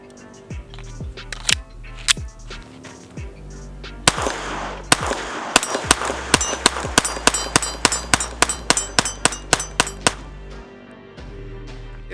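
A Sig Sauer P322 pistol fires Winchester 555 rounds in a long run of sharp, loud shots. A few spaced shots lead into a fast, steady string of rapid fire, then it stops abruptly.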